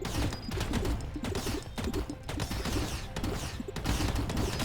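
A missile weapon in a space rock-breaking video game fires in rapid, dense bursts, loud and constant, with crackling impacts stacking over one another.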